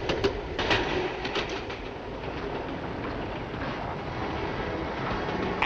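A diesel passenger train runs along the rails with a steady, continuous rumble and a few faint clicks near the start, heard from a moderate distance with wind noise and no talk.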